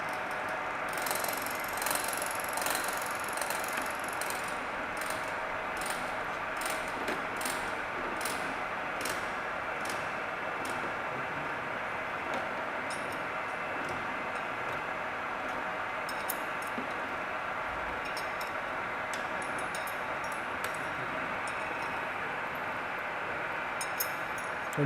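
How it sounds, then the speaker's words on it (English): A milling machine running with its rotating cutter on a cross feed, cutting teeth along a workpiece in a fixture: a continuous, even mechanical whir and hum with faint rhythmic ticking, steady and close with no talking. "the machine is on, and as you can see the milling cutter rotates, and it will be given a cross feed"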